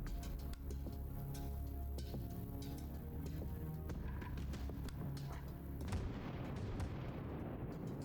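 Knockback blast spell going off in the Tactical Breach Wizards video game: dense, loud game audio with booming impacts and clattering hits layered over a steady music bed, ending in a broad noisy burst.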